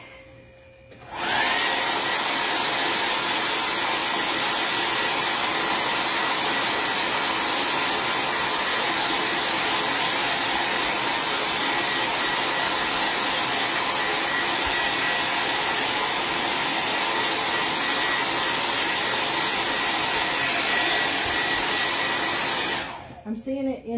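Hair dryer blowing on a chalk-paste craft frame, switched on after a moment and running as a loud, steady whooshing roar for about twenty seconds before cutting off, with no voices over it.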